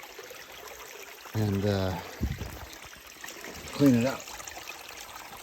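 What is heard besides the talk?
water draining out of a spring water sand trap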